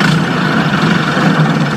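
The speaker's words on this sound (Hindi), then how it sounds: "चलो भाई ओ ट्रैक्टर स्टार्ट है।" Tractor engine running just after starting at a village rice harvest, a loud, steady low rumble close by with continuous vibration and no voices.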